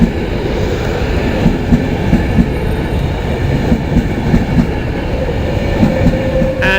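Virgin passenger train on the London Euston to Birmingham New Street service passing through Birmingham International station, a steady loud rumble of wheels and carriages throughout with rhythmic clatter and a brief squeal near the end.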